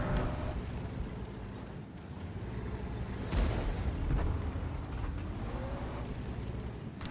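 Tank cannon shots and explosions in a tank combat video game ring out in several booming bursts over a continuous low engine rumble, with heavier blasts near the middle of the stretch.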